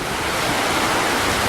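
Ocean waves wash against the rocky coast at Miletus, Turkey in a steady, dense roar of surf blended with wind, loud and unbroken for the whole moment with no voices.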